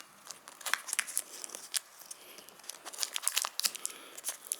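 Tape being torn off the roll in quick crackling rips and crinkles to hold down a CCTV cable being threaded through a cavity brick wall, close and fairly quiet, in short irregular bursts with no talking.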